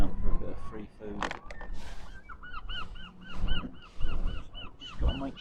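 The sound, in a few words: seagulls calling, queuing for food on Gorleston Pier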